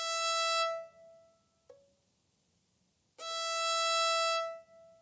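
Violin plays an open E string with a finger resting on the A string, two bright sustained bowed notes separated by a short plucked or brushed tone, close and clear, no talk.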